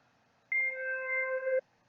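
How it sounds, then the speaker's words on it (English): A bell-like synth preset named Hypnosis in FL Studio sounds one sustained, clear chime-like tone for about a second, starting sharply and cutting off cleanly, with no other sounds around it. "like a bell synth. So it kind of builds up, almost like a pad."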